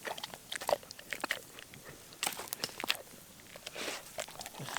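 A dog at a forest campsite crunches a treat in a string of sharp, close bites, busier in bursts, with a soft shuffle between chews and no voices.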